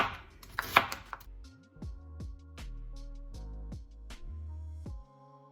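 A knife chops food on a cutting board in a home kitchen, making a series of sharp, evenly spaced knocks, close and fairly quiet, with no talking.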